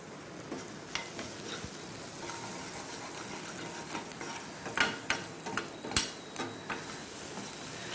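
Onions sautéing with salt in a pan, giving a soft, steady sizzle with scattered stirring scrapes and clinks of a utensil, close and fairly faint.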